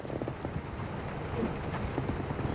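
Misty rain falls over a city view, a soft continuous patter and hiss with scattered drops, fairly quiet and steady throughout with no talking.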